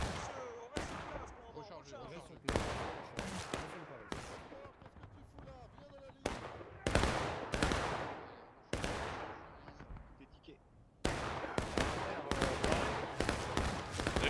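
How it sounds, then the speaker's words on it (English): Musket fire in the Civil War video game War of Rights on the Hagerstown Turnpike map. Loud, sharp reports crack out in quick, ragged bursts, like a volley spreading across a battle line, with scattered shots in between. "They're going to get a volley off."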